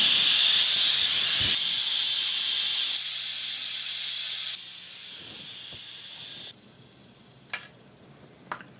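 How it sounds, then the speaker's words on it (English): An Instant Pot vents steam during pressure release, a loud continuous hiss that steps down in several stages to near silence, followed by a few faint clicks and taps. "So we release the pressure now"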